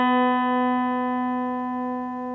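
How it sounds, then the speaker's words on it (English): An out-of-tune guitar harmonic sounding together with the open B string, holding a steady tone whose loudness slowly wobbles in beating waves, alone and close. "Listen for waves. If you hear waves, it might sound like this."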